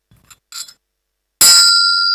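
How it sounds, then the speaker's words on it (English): A single bright bell strike rings out loud and close, its clear metallic tone sustaining and slowly fading, after a few faint soft taps. "We call this a bell, right?"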